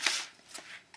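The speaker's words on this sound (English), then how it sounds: "So now all I have to do is cut around the tape" Scissors cut through a thin aluminium beverage can around a strip of tape, giving short crisp snipping and crinkling strokes, close and fairly quiet, with a few separate cuts in quick succession.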